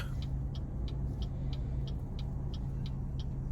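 Cars pass through a busy intersection, a steady low traffic rumble with faint regular ticking, like a turn signal clicking at an even pace, over the whole stretch.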